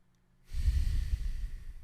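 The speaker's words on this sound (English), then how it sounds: "Breathing like a king is in through the nose, out through the nose" A person breathes through the nose. Silence gives way to a loud, close, rushing breath lasting over a second.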